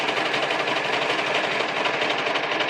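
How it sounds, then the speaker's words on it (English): An overlocker running continuously along the edge of pants fabric, a steady, fast mechanical whir with dense rhythmic stitching chatter, close and loud with no pauses. "we are going to overlock them going down this edge"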